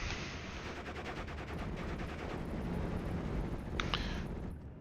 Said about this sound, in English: First of the 105 howitzers firing onto the Pack 43, though.